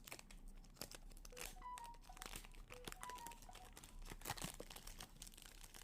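A perfume box is handled close up, with soft crinkling, crunching cardboard and light tapping in quiet bursts.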